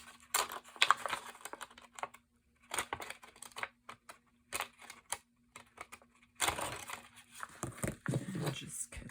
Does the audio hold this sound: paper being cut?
yes